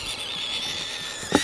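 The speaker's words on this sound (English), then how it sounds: "You want to hear this little baby gecko scream, you will." A baby leopard gecko lets out a thin, high, sustained squeal lasting over a second, close and faint, ending with a brief louder rustle.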